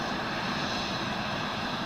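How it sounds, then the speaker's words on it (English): A small jet with CF-34 engines roars steadily at a distance, a loud, unbroken broadband engine noise with no variation. "Small jet, lots of noise."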